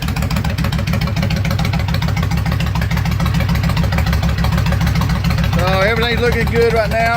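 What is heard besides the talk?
Kawasaki Vulcan 1500 motorcycle engine with straight pipes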